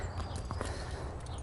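Racehorse hooves clip-clopping in a steady walking rhythm, close and moderately loud, under a low background rumble.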